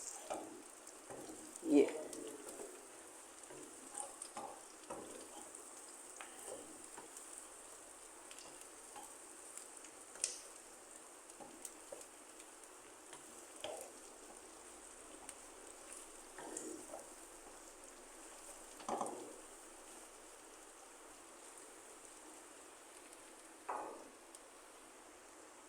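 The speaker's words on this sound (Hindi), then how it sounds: "अब इसमें मैं लौकी ऐड करूँगी और इसे चलाती जाऊँगी।" Bottle gourd (lauki) frying in a pan, a steady soft sizzle with scattered scraping stirs and clinks from a spoon, close by, with a brief word of talk.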